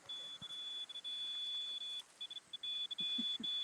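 An EMF meter set off by a phone held too close gives repeated electronic beeps, a steady high tone that breaks up into short beeps, with faint knocks and handling noise on an outdoor ghost hunt at a Civil War battlefield.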